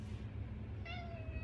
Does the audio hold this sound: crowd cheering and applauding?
no